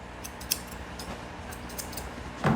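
Scissors snipping through a Morkie dog's hair during a home grooming session, quiet close snips over a soft background hiss, with a sharper cut near the end.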